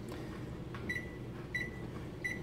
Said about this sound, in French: Alors, je le mets au micro-ondes. Puis là, je vais le partir.